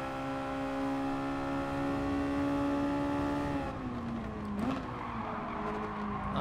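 Race car engines from Gran Turismo Sport at Laguna Seca, a steady high-pitched whining drone that holds then drops as the car lifts and downshifts into a corner, with a brief tire scrub and other cars nearby.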